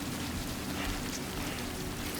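Rain in the video game Death Stranding, a steady soft hiss of falling drops with a low rumble beneath, fairly quiet and unbroken, with no voices.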